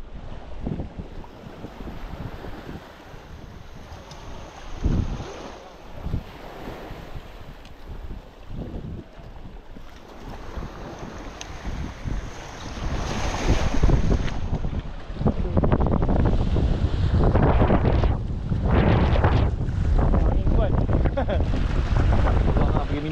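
Wind gusts roar across the microphone aboard a fishing boat at sea off Pulau Aur, with water washing around the hull, growing louder and rougher in the second half.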